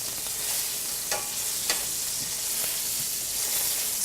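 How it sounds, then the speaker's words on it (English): Pork tenderloin fries in hot grease in a pan, a steady loud sizzle with a few sharp pops and crackles breaking through, and no voices. "Be careful, because the grease does pop up at you"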